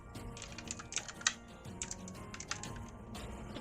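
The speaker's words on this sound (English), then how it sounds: "The DM is typing, apparently." Rapid, irregular clicks of typing on a computer keyboard, close and clear, with bursts of keystrokes separated by short pauses and no voices.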